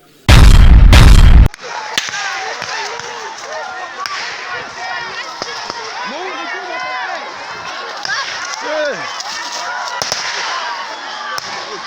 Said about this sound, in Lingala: Pale ni masasi, biko natupiga masasi.